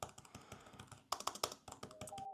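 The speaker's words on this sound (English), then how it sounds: "The Apple Magic Keyboard is a bit clickier, but this doesn't feel spongy at all." Rapid, uneven tapping of keys on an iPad keyboard case, close and crisp, with bursts of quick keystrokes and short pauses; the keys sound firm rather than spongy, and no one speaks.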